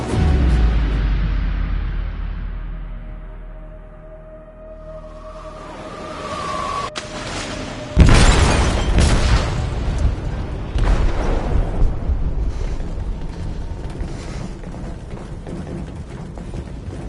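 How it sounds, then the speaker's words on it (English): An explosive detonates in a ship's hold in the video game Detroit: Become Human: a deep rumbling boom swells in and bursts loudly, followed by sustained roaring, crackling debris and low rumble that lasts for many seconds. "They detonated an explosive in the hold. The ship is sinking, sir."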